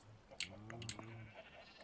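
A sheep in the Minecraft video game gives one faint, short, wavering bleat with a few soft clicks and taps around it, quiet and somewhat distant, with no talking.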